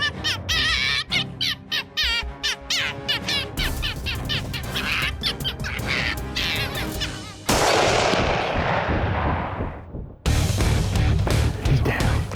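Gunshot fired while hunting in Maryland, a single loud close blast with a long decaying echo, preceded by busy bird squawks and calls from game callers, then another sharp burst of noise.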